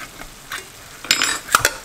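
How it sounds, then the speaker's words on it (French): Red beans and corn being stirred into a pot of tomato sauce, a utensil clinking and scraping against the pan in short, close bursts with a soft sizzle underneath. "dans ma sauce tomate, je vais ajouter mes haricots rouges et mon maïs"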